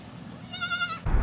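A single goat bleat used as a sound effect, a clear, wavering, nasal cry lasting about half a second, followed by a burst of low rumbling noise.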